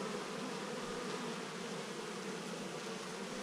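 A dense, steady buzzing of many honeybees swarms around pollination hives in far west New South Wales, continuous and close with no voices.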